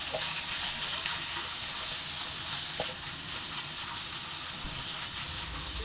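Beef sizzles in hot oil with garlic and onion in a pan, making a constant loud hiss with occasional small pops throughout.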